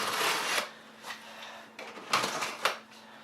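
Blade slicing through tape and cardboard on a sealed Thermaltake PC case box, a few short scratchy rasping strokes close by with brief pauses between cuts, fairly quiet.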